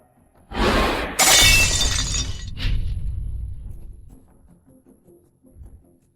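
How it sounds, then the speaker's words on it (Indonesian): A rare, costly item shatters in one loud crash with scattering fragments, then a short second burst of breaking and a tail of small clinks settling into quiet. "Barang langka 100 juta. Pecah begitu saja, aduh."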